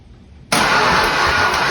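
A 1970 Dodge Charger engine, abandoned for 39 years and with its timing badly off, abruptly bursts into a loud, sustained crank-and-catch roar after a quiet moment, running rough and close.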